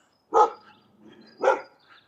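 A feisty dog barks twice behind an old fence on Graham Street in Innisfail, Queensland, Australia; two sharp, loud, close barks about a second apart, with quieter grumbling between.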